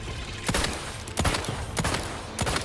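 Pistol shots in The Outer Worlds 2, four sharp reports spaced about a second apart over a steady game background, loud and close.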